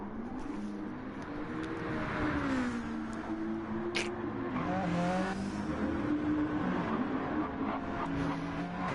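Race cars lap the Red Bull Ring in Gran Turismo 7, engine tones rising and falling through gear changes as several cars run together, fairly faint and steady with no voices.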